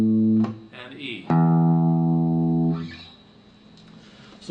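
A single low E string plucked open on an electric guitar during tuning, ringing with steady harmonics and fading after a couple of seconds, following a brief earlier note; clear and close, with no voices.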